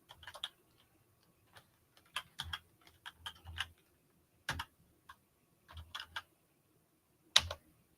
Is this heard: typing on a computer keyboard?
yes